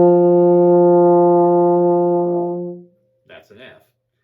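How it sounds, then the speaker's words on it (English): A single sustained open F note played on a baritone horn without valves, loud and steady with rich harmonics for nearly three seconds before fading, followed by brief talk. "F is probably the easiest note to play without pushing down any valves."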